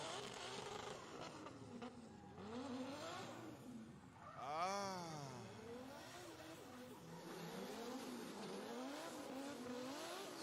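Drift car making a run at a D1GP Malaysia drifting event, its engine rising and falling in revving sweeps with a louder surge midway, heard at a distance under the noise of the venue.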